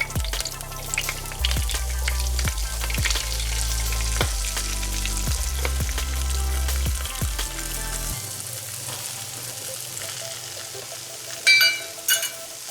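Flour being stirred into oxtail pan drippings for gravy, a loud steady sizzle with scraping stir strokes that fades to a quieter simmer and a few clinks near the end.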